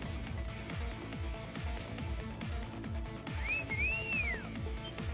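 A character in the video game Trails of Cold Steel 3 gives a clear, rising-and-falling whistle over loud, rhythmic in-game music.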